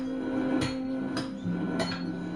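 Three ringing hammer blows on hot iron being forged into an ingot, spaced roughly half a second apart, each a bright metallic strike over a steady background hum.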